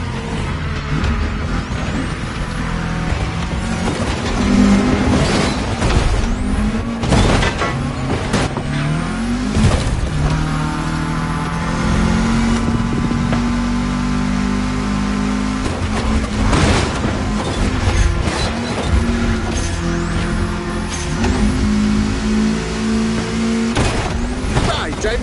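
A car driving through a state capital in The Crew Motorfest, the engine humming and rising steadily up close under a busy game mix, with occasional thumps and shifting tones.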